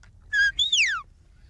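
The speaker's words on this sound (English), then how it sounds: "Bill commands his dogs with the words and whistles of Scotland" Shepherd's whistle commanding Scottish-trained border collies on a ranch: two sharp, clear whistled notes, a short steady tone followed by a longer rising-then-falling sweep, close and loud over a low background rumble.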